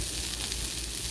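Smashburgers frying on a 17-inch Blackstone griddle at a campground, giving a steady, dense, close sizzle with no breaks and no voices.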